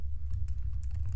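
Soft, quick keystrokes patter on a computer keyboard while a chatbot message is typed, faint clicks over a low steady room hum with no talking.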